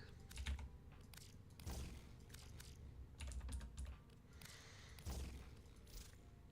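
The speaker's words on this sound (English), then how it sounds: "Why am I typing fortitude?" Quiet bursts of computer keyboard typing, rapid clustered keystrokes in several short runs separated by brief pauses, close and soft with low thumps of the keys bottoming out.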